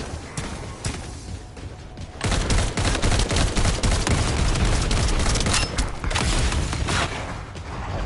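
Weapons fire nonstop in The First Descendant, a loud continuous barrage of rapid gunshots and booms that erupts after a quieter opening and keeps hammering to the end.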